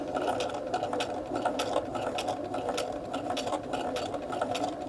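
A sewing machine with a rolled hem foot stitches fabric in a steady fast whirring run, its needle ticking rhythmically throughout, close and continuous with no talking.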